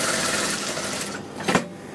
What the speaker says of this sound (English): just placing the piping underneath and just stitching on top of the jacket fabric